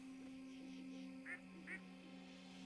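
A pet duck in the online game Turtle WoW gives two short, bright quacks about half a second apart over a steady low hum of game ambience.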